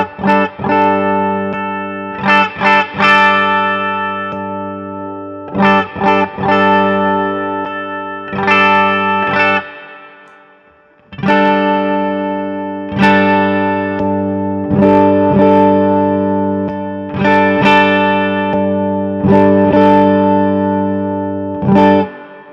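A Yamaha Revstar electric guitar on its bridge pickup, with the focus knob in play, strums chords through effects: sustained, bright strums that ring out in repeated phrases with short choppy accents and a brief fade in the middle.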